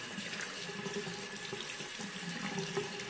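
Tap water runs steadily into a sink as a watercolor brush is rinsed beneath it, giving a continuous close splashing rush with no voices.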